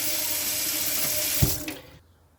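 Filtered water runs steadily from an under-sink filter tap with a bright hiss, then the flow is shut off with a brief clunk and drips into quiet.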